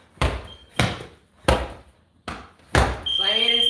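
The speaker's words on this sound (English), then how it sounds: "Squat down when you smash it into the ground." Five heavy medicine ball slams onto the ground during a strength and conditioning cardio workout, each a loud broadband thud about every 0.6 seconds. A sustained harmonic tone rises after the last impact, and a voice speaks between the slams.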